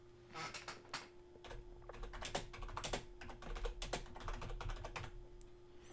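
Steady, rapid typing on a computer keyboard in the WordPress text editor, a close, quiet run of clicking keystrokes with a faint steady hum underneath and no talking.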